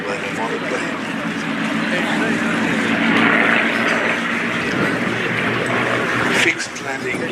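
A biplane at the Flying Legends air show at Duxford drones overhead with a steady engine roar that swells and fades, while a voice talks over it.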